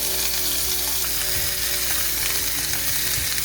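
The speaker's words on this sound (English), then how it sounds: "In a well-heated pan, greased with tallow, I fried the meat for about 3 minutes on each side" Steak fries in tallow in a well-heated pan with a loud, steady, close sizzle that barely changes. Small crackles and a faint scrape of stirring show through the hiss.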